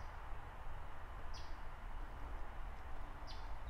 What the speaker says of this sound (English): I don't know why a bird is chirping.